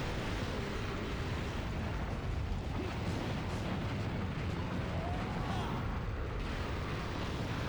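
Fire beam attack from a monster in Monster Hunter Freedom Unite, a sustained roaring, rumbling blast that fills the whole stretch at an even, fairly quiet level with no clear breaks.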